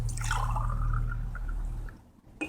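Water drains out the back end of a gold-dredging sluice box as a soft, close trickle and gurgle that fades toward the end.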